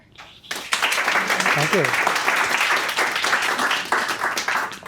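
Audience applause welcoming a speaker to a community talk on trees and suburban ecological restoration, sustained steady clapping filling most of the clip, with a brief voice near the start.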